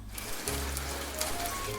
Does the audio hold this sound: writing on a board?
no